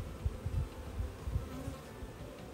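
Bees hum steadily at a hive, a dense, continuous low buzz with small swells and no voices.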